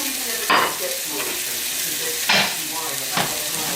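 Cooked rice tipped into an oiled pan for chicken and veggie fried rice crackles and sizzles, with three sharp scraping stirs of the spatula standing out over the steady frying.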